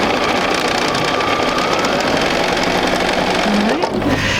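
A sewing machine runs steadily through a quarter-inch quilt seam, a loud continuous mechanical whir and rattle that holds an even pace for about four seconds with no voices.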